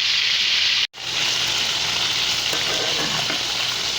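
A herbed pork chop frying in a hot pan gives off a steady, close, hissing sizzle with a dense crackle, broken by one very short dropout near the start, and nobody speaks.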